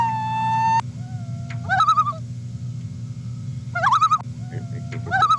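Common loon call played back from a recording, rising wavering wails that come in three separate bursts over a steady low hum, with a long held tone at the start.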